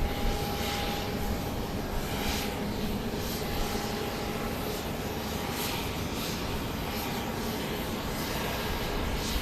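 A Southwest Boeing 737 MAX 8 jet takes off from runway 13 left at Dallas Love Field at night, a loud, steady broadband engine roar that fills the whole stretch without a break.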